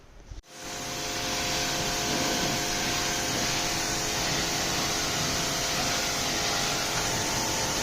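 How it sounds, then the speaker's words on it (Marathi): A pressure washer sprays in a steady, loud, broadband hiss that kicks in after a short click and holds unbroken for several seconds. "सो फकत दोनयांचे प्रेशर वॉशर मारतलो"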